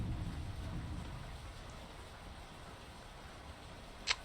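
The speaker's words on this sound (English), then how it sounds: "Quite a storm here." Heavy storm rain pours steadily over the sea in the sailing game Sailwind, with a low rumble of thunder early on that fades into a constant hiss, and a brief sharp click near the end.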